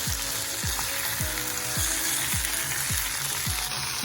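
Sofrito, onion and crushed garlic frying in a pan, giving a close, even sizzle with regular low scraping thumps from stirring about every half second.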